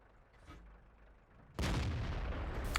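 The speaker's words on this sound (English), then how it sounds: "taking a nice shot at T29, he's almost dead" A tank gun firing in World of Tanks, a single sudden heavy blast after a quiet low rumble, leaving a loud sustained roar and rumble that lingers to the end.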